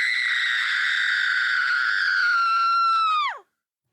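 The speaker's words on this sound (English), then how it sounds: "she let out a blood-curdling scream" A woman lets out a long, high-pitched, piercing scream, held steadily for over three seconds before sliding downward and cutting off into silence, loud and close.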